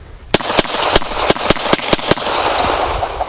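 A Beretta M9 pistol is fired in rapid succession downrange outdoors, eight or nine sharp, loud shots in a quick, slightly uneven rhythm, each leaving a brief echoing tail.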